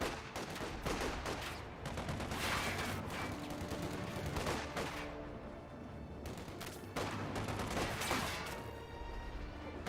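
Rifle fire from grenadier squads in the WWII strategy game Company of Heroes 2, dense repeated shots and bursts of battle noise continuing throughout, loud and busy.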